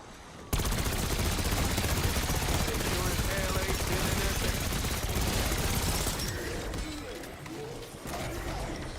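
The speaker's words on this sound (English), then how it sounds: "This thing's rate of fire is too high. It just spits all of its ammo." Rapid automatic gunfire from a high rate-of-fire weapon in a first-person shooter game, a dense continuous stream of shots with game sound effects and a voice talking partway through.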